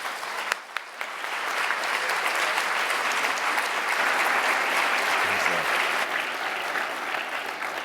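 Sustained audience applause fills the hall as a guest speaker is welcomed at the Hoover Institution, steady and dense clapping throughout with no talk over it.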